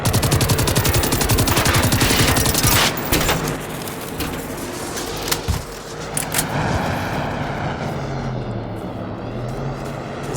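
Rapid gunfire rattles loudly in Generation Zero, a steady burst for several seconds, then scattered shots over a droning engine-like roar.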